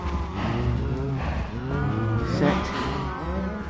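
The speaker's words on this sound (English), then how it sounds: "Looks like a couple of cows may have escaped." Cows in a survival video game world let out several long, drawn-out moos, one after another, fairly close and loud, without talking over them.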